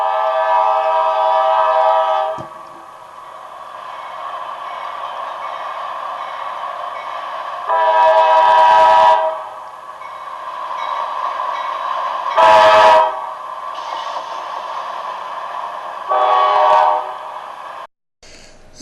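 A westbound freight train led by a three-unit diesel lash-up out of Sayre, Pennsylvania, with a loud steady engine roar and several long blasts of a multi-tone air horn, the last cut off abruptly.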